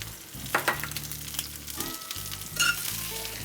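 Capsicums, onions and salted capers fry in a hot pan, a steady close sizzle with a few brief sharper crackles and stirring noises and no talk.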